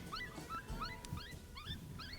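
Electronic predator caller playing a coyote pup distress call outdoors in Arizona public land, repeated rising whimpering yips in quick bursts, fairly faint and steady with light background noise.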